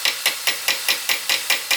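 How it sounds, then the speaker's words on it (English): A hammer taps a pin into a shotgun part held in a vise, giving eight light, evenly spaced metallic taps in a steady rhythm, close and clear with no talking. "all we're going to do here now is just tap this pin in"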